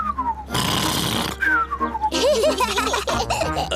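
Cartoon character Uncle Pig's loud snoring, imitated by a voice: a long descending whistle-like tone, a burst of breathy noise, then gurgling, snorting grunts, all close and loud.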